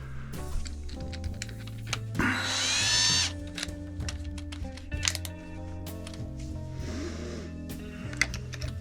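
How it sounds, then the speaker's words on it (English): A 5/16 drill bit boring out the center of a wood piece on a lathe, a steady whining drill drone with a sharper rising burst partway through, close and loud with no talk. "We'll drill it out, get a worm screw in there."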